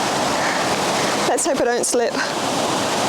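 A river flowing through woodland, a steady broadband rush of water heard close and loud throughout, with someone speaking briefly over it.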